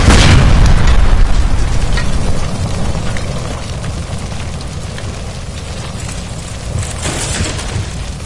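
A gas line explodes in LA Noire, a loud close boom at the start that decays into a long crackling, rain-like roar of debris and fire fading over several seconds.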